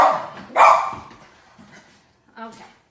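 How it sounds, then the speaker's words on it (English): A dog barks sharply at a squirrel outside, two loud barks followed by a softer, whiny yip near the end, up close and mostly alone between brief quiet gaps. "There's a squirrel outside and my dog really wants to get the squirrel."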